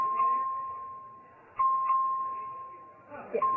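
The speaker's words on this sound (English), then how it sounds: "The clerk will ring the bell." A voting bell rung by the clerk on the floor of the Texas House during a roll-call vote: a steady electronic ring sustained through the clip, with a brief break and a fresh strike, under faint chamber murmur.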